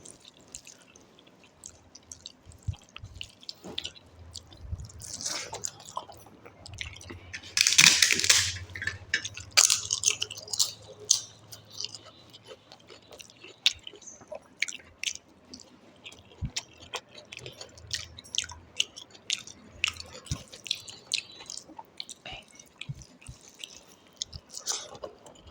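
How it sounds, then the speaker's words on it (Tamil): A person eating a home-cooked lunch with beans, chewing and crunching food close up in uneven bursts over faint ticking and dripping background sounds. "மென்று சாப்பிட்ணும்ல, லேட்டாகும் அது"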